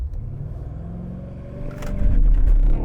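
BMW X6 M launching hard uphill, its engine building from a low rumble into a loud, rising roar as it accelerates, with brief scrabbling as the tyres struggle for traction.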